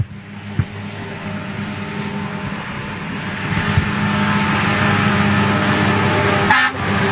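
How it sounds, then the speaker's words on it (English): Airport fire trucks approach at speed at Amsterdam airport, a steady engine rumble that builds and grows louder over several seconds, with a faint horn toot near the end and a few light knocks early on. "Here come the fire trucks. Coming at a rate of knots as well"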